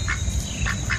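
A duck in Tennessee quacks a few times in quick succession, loud and close over a steady background murmur.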